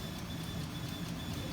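Thermal printer feeding paper after the feed button is pressed, a steady mechanical whir with a faint whine, close and continuous with no talk.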